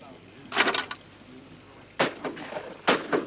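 Three sharp shotgun blasts fired at clay targets on an outdoor shooting ground, loud and spaced about a second apart, each with a short rolling tail.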